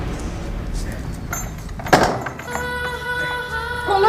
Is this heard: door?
yes